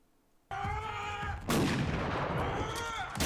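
Shotgun fire in the horror film The Purge, with two loud blasts about a second apart, the second harsher and followed by a rumbling tail, over a tonal background.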